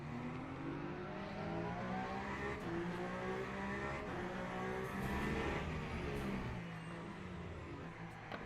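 Race car drifting with its rear sliding around in the sim game Le Mans Ultimate during an online race, a steady engine roar with tyre scrub running loud and continuous throughout, no voices.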